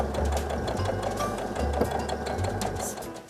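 A sewing machine stitches fabric for a flying geese quilt, its motor whirring in short repeated runs with brief pauses between them, close and steady.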